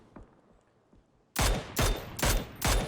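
Gunfire in PUBG, a few faint distant pops followed by four loud, close bursts of automatic fire spaced roughly evenly apart.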